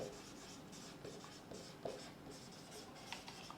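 Chalk or marker scratching out a chemical formula on a classroom board during a glass-etching chemistry lesson, a series of short, quiet strokes and taps in quick rhythm with no talking.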